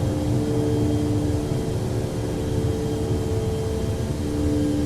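Simulated DC-8-73F jet engines drone steadily during a climb in Flight Simulator X, a loud sustained roar with a fixed tonal whine over it and no talk.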